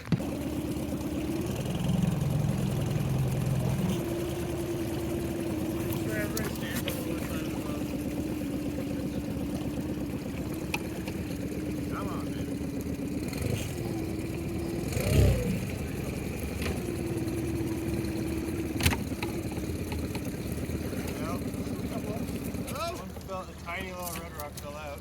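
A boat's outboard engine drones steadily at close range on a spearfishing trip off Vancouver Island, a continuous hum with water splashing and occasional knocks, while people talk over it.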